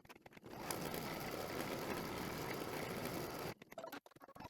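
An embroidery sewing machine tacks down quilt fabric layered over batting in the hoop, a steady, fast mechanical whirring hum lasting several seconds before stopping, followed by a few brief clicks.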